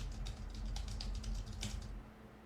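Quick run of computer keyboard keystrokes, a dozen or so close, crisp clicks in an uneven typing rhythm lasting about two seconds before stopping.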